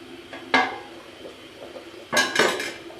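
Metal lid set down on a cooking pot of aloo gosht simmering on the stove, giving two clattering clanks, the first single and sharp, the second a louder rattling cluster about a second and a half later, close and without talk.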